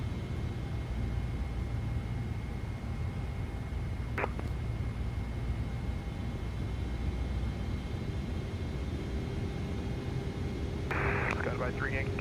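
Constant cabin roar of a Boeing 777 from a flight simulator sound pack, a steady broadband hum with faint tones, brief beeps and a short radio-like chirp near the end.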